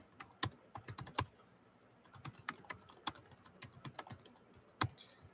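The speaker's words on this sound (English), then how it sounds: "I'm gonna type it in chat and pin it up in there" Keystrokes on a computer keyboard, tapped in irregular bursts of sharp clicks with short pauses between, close by and fairly quiet, with no talking.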